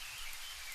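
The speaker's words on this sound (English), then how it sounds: "until only the sound of rain remains" Steady rain pours down in a stormy downpour, a soft, even hiss of falling drops with no voices, fairly quiet and continuous.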